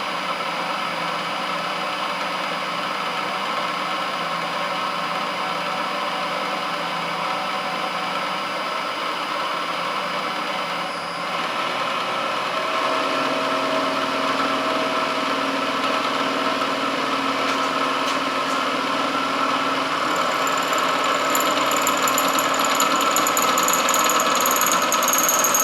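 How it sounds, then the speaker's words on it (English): A milling machine takes a cleanup pass in a machine shop. Its motor drones steadily and loudly throughout with a gritty cutting texture, and the tone shifts lower and fuller partway through. No one speaks. "Let's go for a cleanup pass."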